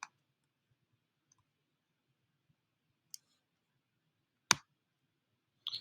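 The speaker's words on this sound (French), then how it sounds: "on peut cliquer à droite dessus" Sharp computer mouse clicks in a quiet room: a couple of isolated crisp clicks spaced seconds apart, the loudest near the end, with a soft double click closing it.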